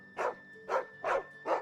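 A dog barking in the video game Final Fantasy XVI, four evenly spaced mid-pitched woofs over a steady faint game tone, clear and unaccompanied by speech.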